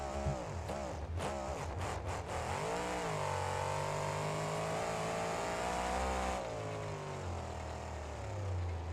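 The Grave Digger monster truck revs its engine in BeamNG, rising and falling in pitch through several surges. The tone holds steady for a while, then shifts lower, close and continuous with no talking.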